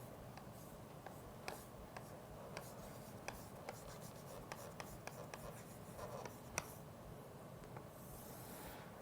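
Chalk or marker strokes on a board during a math lecture, faint scratchy marks with irregular ticks and taps against quiet room noise, no voice heard.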